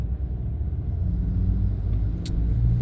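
A car engine in town traffic rumbles steadily and fairly close, a low, continuous drone with no clear surges in pitch.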